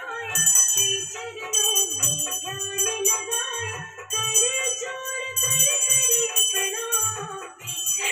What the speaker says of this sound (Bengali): ঘন্টি বাজাও।